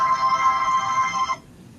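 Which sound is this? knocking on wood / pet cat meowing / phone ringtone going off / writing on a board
phone ringtone going off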